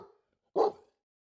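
A dog in the video game Victory Belles gives a single short, clear bark after a faint earlier yip, then falls silent.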